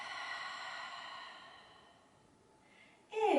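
A long, slow exhale during a guided breathing exercise in an exercise class. The breath is soft and airy, fades over about two seconds, and ends with a brief louder breath.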